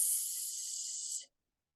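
A voice imitates a snake's hiss for the letter S, a single steady breathy hiss lasting about a second, close and fairly soft, then silence.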